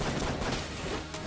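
The chamber gun fires in Enter the Gungeon as a dense burst of rapid, crackling shots, loud and close and running throughout the short moment.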